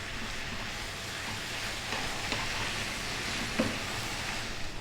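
Canned corned beef and potatoes sizzle in a pan, a continuous soft frying hiss with occasional small pops and stirring scrapes, steady and moderately quiet with no talk.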